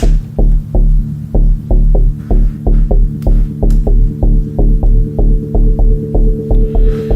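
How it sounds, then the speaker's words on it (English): A deep synth bass repeats a single low D note in a steady pulsing rhythm, each hit ducking and swelling with sidechain, loud and alone. "I have a bass line that is on the same pattern, as you can see here, except it's a single note."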